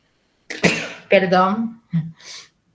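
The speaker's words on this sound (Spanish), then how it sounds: "justo me vino un estornudo" One person lets out a sharp, close sneeze with a quick intake and burst, followed by short throat sounds and brief vocal noises in a quiet room.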